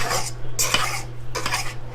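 A utensil stirs a thick peanut butter dog treat mixture in a bowl, making three bursts of scraping and clinking over a low steady hum.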